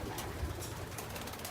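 Young pigeons in a loft, a few soft low coos close by against a quiet, steady room background.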